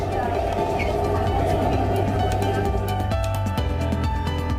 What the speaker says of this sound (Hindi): अब रैपिड रेल की रफ्तार देख लीजिए